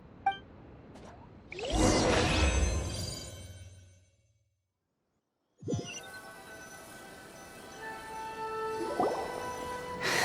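Paper sheets dunked into pond water outside a police station in Genshin Impact, a swishing splash followed by a soft liquid squish, then a short silence before dripping, watery ambience and a faint ding.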